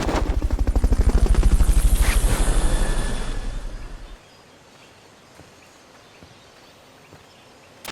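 Helicopter in the Metal Gear Solid Peace Walker video game: a loud, steady rotor chop with a throbbing low hum that fades out after about four seconds, followed by near silence with faint clicks.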